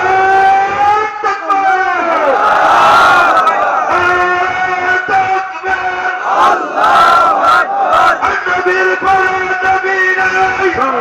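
A large crowd loudly chants Nara-e-Takbir, Allahu Akbar in unison, a repeated call-and-response roar with sustained, tonal voices filling the space throughout.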